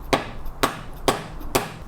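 A hammer taps a part into its seat during a Suzuki GSX-R1000 motorcycle rebuild, four sharp, evenly spaced knocks about half a second apart, close and crisp.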